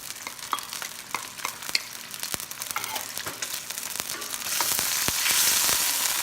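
Onions and garlic sizzle in a hot pan for a Filipino chicken afritada, crackling steadily while a utensil scrapes and taps as they are stirred, the hiss swelling louder toward the end, no talking.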